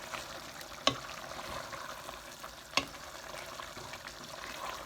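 Mince simmering in a pot for spaghetti bolognese makes a quiet, steady sizzling bubble, broken by two sharp clinks partway through.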